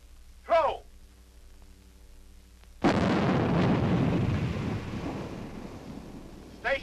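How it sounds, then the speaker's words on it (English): A live hand grenade detonates on a military practice range with a sharp, heavy blast, followed by a long rumbling, wind-buffeted roar that fades slowly. A brief shouted voice comes before it, and another is heard faintly at the end. "The men are throwing live grenades for the first time."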